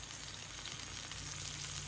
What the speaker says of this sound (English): I think I'll put just a little bit more oil on that.